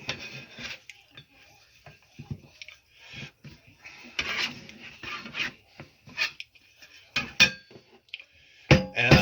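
Cold butter slices for puff pastry being worked and pressed together by hand, giving soft irregular rubbing and squishing sounds in short bursts, close up and fairly quiet, with a few sharper handling noises.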